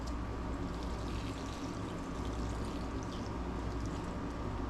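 Water pours from a container into a garden pot, a soft, continuous splashing and trickling stream, fairly quiet and steady throughout.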